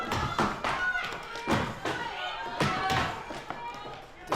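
Axe strikes bite into a wood block at a timbersports qualifier, a string of sharp, thudding chops landing roughly every second, heard under continuous excited commentary.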